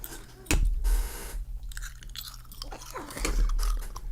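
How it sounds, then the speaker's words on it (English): A person chews food close to the microphone with wet, crunchy bites and smacking, the mastication continuing steadily over a low background rumble. "He's chewing down."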